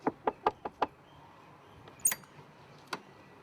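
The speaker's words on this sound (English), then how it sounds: "next thing you know, you've got the AD knocking on your door" Five quick knocks rap on a door in a fast run, followed by a pause, a sharp metallic clink, and one more isolated knock, fairly close in a quiet room.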